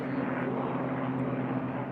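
A D-model P-51 Mustang at an unlimited air race, its piston engine droning steadily with a strong low hum, sustained and fairly close for the whole moment.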